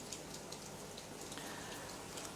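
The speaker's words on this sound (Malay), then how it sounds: "Sekarang ni di Kuantan hujan sedang turun dengan agak lebat juga sekarang ni." Heavy rain falls in Kuantan as a steady, even hiss of drops close by, with faint scattered patters on surfaces and no one speaking.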